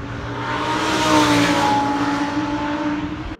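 An Audi R8 supercar's V10 engine roars loudly and close, a rich harmonic wail swelling to a peak and holding steady before cutting off abruptly.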